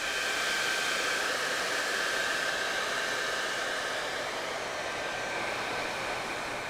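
A T3 AireLuxe hair dryer blows a steady, loud, close whooshing airflow without pause while it dries long, straight hair, and no one speaks.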